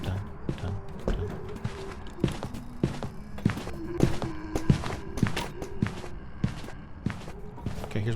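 Ponderous footfalls of a slow-moving ghost in the horror game Phasmophobia land in a steady, measured rhythm for several seconds, each step a clear close thump over a low background drone.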